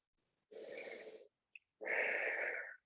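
Two long, slow, steady breaths, a strong inhale followed by a fuller exhale, are close and clear against silence, as someone holds a yoga plank.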